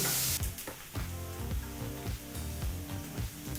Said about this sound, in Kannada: ಮೀಡಿಯಂ ಫ್ಲೇಮಲ್ಲೇ ಈರುಳ್ಳಿನ ಫ್ರೈ ಮಾಡ್ಕೋಬೇಕು